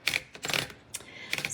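Roller of a 1958 Royal Speed King typewriter clicking as a lever disengages it: several sharp, close clicks in quick irregular bursts, crisp and alone.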